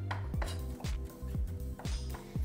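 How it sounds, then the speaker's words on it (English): A knife chops chilli into very thin slivers on a board, about six sharp, regular blade strikes ringing out close and clear with no talking. "just run your blade through it again"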